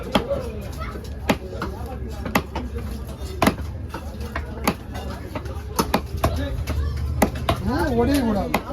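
A knife chopping a korali fish at a Kasimedu fish market, with sharp, repeated thuds at an irregular pace under continuous talking and busy background noise.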